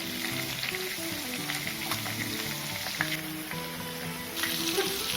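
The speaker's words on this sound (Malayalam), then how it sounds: "നമുക്ക് ഓരോ പീസായിട്ട് നമുക്കിതിനെ ഫ്രൈ ചെയ്തെടുക്കാം" Chicken pieces fry in a pan with a steady, dense sizzle and occasional crackles and pops, continuous and close throughout.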